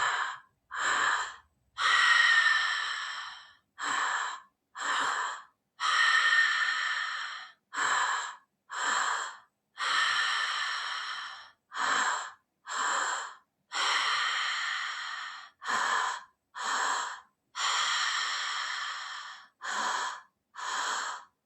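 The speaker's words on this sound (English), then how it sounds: "So inhale, exhale, all through the mouth." Group breathwork session with repeated deep breaths in and out through the mouth, loud and close. The breaths come in a steady rhythm of about sixteen bursts with short pauses between them, and no one speaks.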